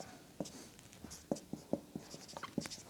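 Chalk or marker taps and scratches on a board in short, irregular strokes while numbers are written during a basic mathematics lesson. The sound is quiet and close, with no speech over it.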